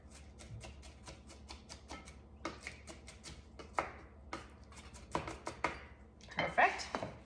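Knife roughly chopping salad ingredients for a Big Mac-style burger salad bowl on a board: quick runs of crisp, close taps in bursts with short gaps, a few louder knocks near the end.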